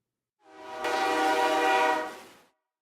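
Train horn sound effect played during a live stream, a sustained harmonic blast with rumbling rail noise underneath, rising in, holding about a second and a half, then fading out, with no talk over it.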